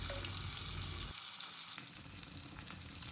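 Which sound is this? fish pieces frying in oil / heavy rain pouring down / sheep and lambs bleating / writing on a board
fish pieces frying in oil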